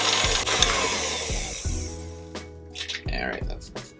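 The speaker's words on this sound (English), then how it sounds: "this you're just kind of beating until it's nice and combined" Peanut butter cookie dough being beaten in a bowl with an electric mixer, a steady whirring hum with repeated thumps and scraping, close and loud, while a person talks over it.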